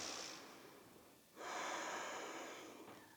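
A deep audible inhale through the nose during an ashtanga yoga standing sequence, a long close breath following a brief earlier exhale, quiet and alone.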